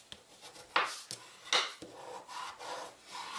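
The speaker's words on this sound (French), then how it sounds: "Alors, hop, on prend son plioir, on marque son pli." A bone folder is drawn firmly along a fold in greeting card stock, giving several short, dry scraping strokes close to the microphone, each a quick rasping rub, with no talking.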